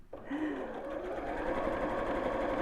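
A sewing machine stitches along steadily for several seconds, near and continuous, with a constant mechanical whir and no talking.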